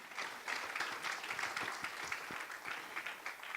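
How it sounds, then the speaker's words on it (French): A church congregation applauds in worship, giving a soft, even wash of many hands clapping heard from a distance for a few seconds. "Nous pouvons acclamer la parole de Dieu ce matin."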